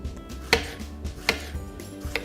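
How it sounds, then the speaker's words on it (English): Knife slicing organic strawberries on a cutting board for a mixed green salad, four crisp separate chops spaced unevenly over a couple of seconds, close and clear, no talking. "I got some nice organic strawberries here that I'm just going to slice up and put those in"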